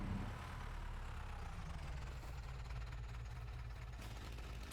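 A tractor engine idles steadily in Farming Simulator 25, a constant low rumble that holds evenly throughout with no talking over it.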